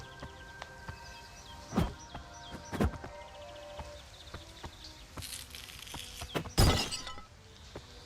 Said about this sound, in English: smashing someone's very precious antique pot collection might trigger something